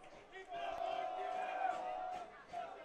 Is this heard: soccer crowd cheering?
yes